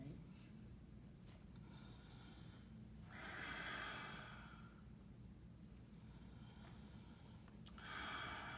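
Deep, steady breathing during stationary bokken cutting practice in Aikido: two long, audible breaths spaced several seconds apart, close and fairly quiet, with soft rustling between.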